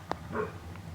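A dog gives a single short bark, followed by a faint whimpering trail, fairly close and alone without speech.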